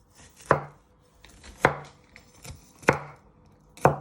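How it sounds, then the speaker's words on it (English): Garlic sliced with a kitchen knife pressed down on a cutting board, four crisp separate chops spaced about a second apart, close and clear with no talking. "you want to place your knife on top of the garlic, press down, and you want to finally slice it"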